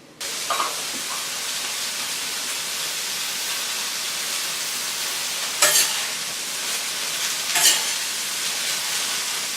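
Broccoli steams in a pan, a loud continuous hiss and sizzle with a couple of brief bursts of sharper crackling partway through.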